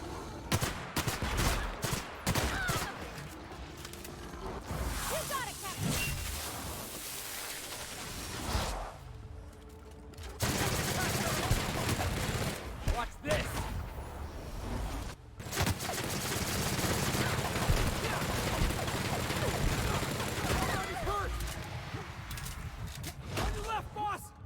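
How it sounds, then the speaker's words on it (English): A shrink ray gun fires in The Outer Worlds video game, bursts of rapid crackling blasts repeating in clusters amid combat noise, with a voice talking in between. "Oh, that's the ray gun doing that,"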